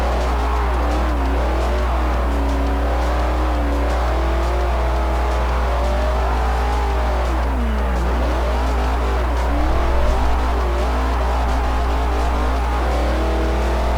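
A Camaro drift car in Forza 4 revs continuously, its engine note rising and falling through the throttle, with a sharp dip and recovery midway, loud and steady with no talking.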